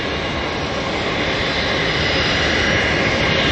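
Antonov An-124 aircraft engines at Auckland Airport give a loud, steady, broadband roar that holds constant and swells slightly toward the end, with no voices.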